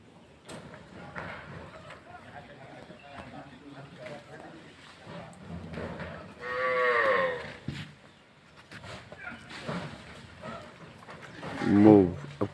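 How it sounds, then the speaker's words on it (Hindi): A herd of cattle moos as the animals follow their cowherd out to be fed at a shelter for stray cows, with a louder low call around the middle and another near the end, mixed under ongoing talk. "पूरा गोवंश एक साथ उनके पीछे हो लिया"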